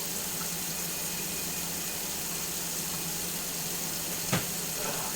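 Hot water runs steadily from a kitchen tap while meal prep gets underway, a constant hiss holding for several seconds with one brief knock near the end.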